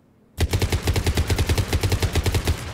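The Cerberus Harrier rifle in Mass Effect 3 fires a rapid full-auto stream of about twenty sharp, evenly spaced shots, loud and close, starting abruptly after a moment of quiet.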